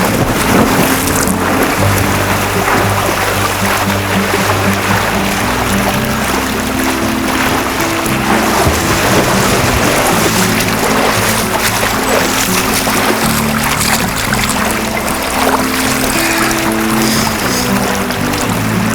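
A person swims a lap in an Oasis fiberglass pool, with steady loud splashing and sloshing water mixed with wind buffeting the microphone and no speech.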